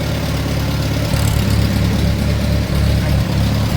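A restored Farmall 140 tractor, once stuck but now running again, idles steadily close by with a loud, even low chug and no voices.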